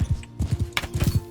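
Horse hooves gallop in Mount&Blade: Bannerlord, a fast, loud, rhythmic clip-clop of hoofbeats in quick pairs, close up, with a brief swish between strides.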